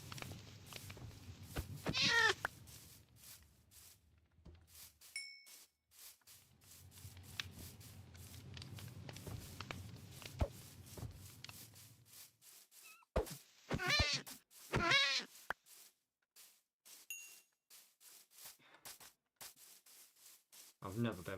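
Several cats meowing in the Minecraft video game, short high mews scattered among soft rustling and low rumbling noise, with a voice talking at times.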